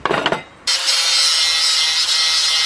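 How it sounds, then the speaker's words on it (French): Metal parts are cleaned of paint and rust with an angle grinder or wire brush before welding; a short rough scraping gives way to a loud continuous abrasive whir that holds steady to the end, with no voices. "Je vais déjà nettoyer soit à la meuleuse, soit à la brosse métallique, ces deux parties"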